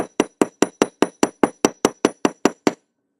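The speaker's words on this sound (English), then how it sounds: "This is a lot of hammering" Thirteen sharp metallic hammer strikes land at a steady, even rhythm, close and loud, each ringing briefly before the next, then stopping into near silence; jewelry supplies setting.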